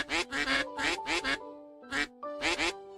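Ducks quack in the Pre-Odyssey video game demo, a series of loud, nasal quacks in quick clusters, roughly seven or eight calls with short pauses between groups, close and clear.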